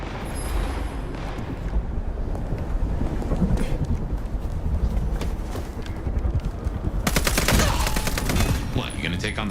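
Gunfire in Vampire: The Masquerade - Bloodlines 2, a rapid run of sharp shots and impacts over a busy background, with a burst of loud crackling fire near the end.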